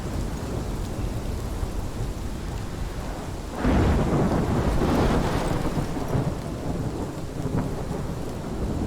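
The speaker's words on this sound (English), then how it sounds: "This is my storm." A thunderstorm rages in the Life is Strange video game, with steady heavy rain and a loud rolling thunderclap that swells midway and then rumbles off under the downpour.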